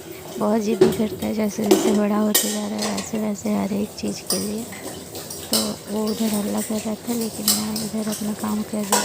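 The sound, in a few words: washing dishes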